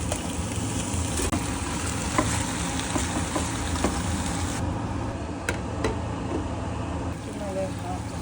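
Food frying in butter in a pan with steady stirring, a continuous loud sizzle and crackle throughout with occasional scrapes and clinks, while a voice talks underneath at times.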